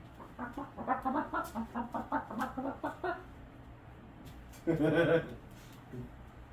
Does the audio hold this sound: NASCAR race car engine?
no